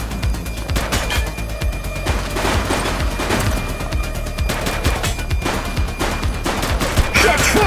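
Dense gunfire rattles through a shootout in the game The Precinct, rapid overlapping shots and bursts crackling continuously for several seconds at close range, with no speech on top.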